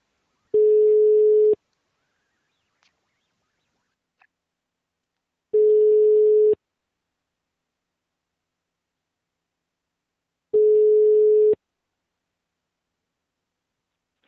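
Ringback tone of an outgoing phone call, three evenly spaced one-second buzzing tones about five seconds apart with silence in between, clear and steady.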